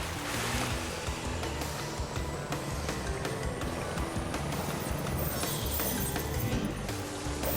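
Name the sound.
jet ski on water in Crash Bandicoot Warped video game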